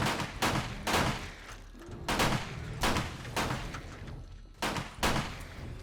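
Rapid bursts of gunfire in the multiplayer zombie survival game 7 Days to Die, Alpha 20, loud sharp volleys repeating about every second or so, each shot crackling and dying off quickly, with no talk over them.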